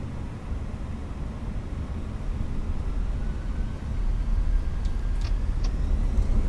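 Airliner engines spool up for a rolling takeoff in a flight simulator, a steady broadband roar that builds slightly louder partway through, with no talking.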